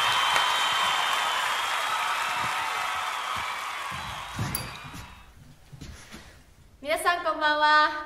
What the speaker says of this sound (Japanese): では拍手を待って